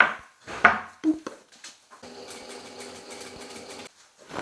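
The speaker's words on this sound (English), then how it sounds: "Then we're going to sew the whole way around here." A sewing machine stitches around a jacket's pocket bag in a steady, close mechanical whir lasting about two seconds, with a few handling knocks and clicks before and after it.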